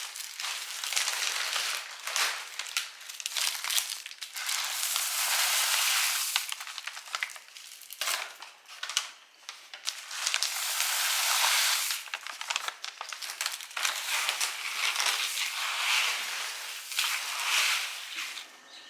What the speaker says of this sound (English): So we'll want to mix this up a good bit and add the oats.